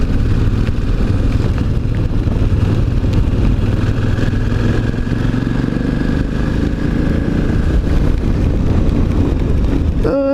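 A motorcycle being ridden in damp weather, its engine rumbling steadily and close beneath constant loud wind rush across the whole stretch.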